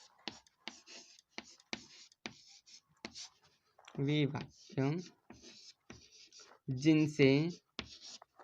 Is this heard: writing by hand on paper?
yes